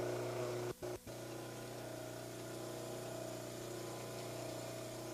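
A model trimmer grinds a plaster orthodontic cast with a steady, continuous machine whine and hum, dropping out twice briefly near the start before running on evenly at moderate volume.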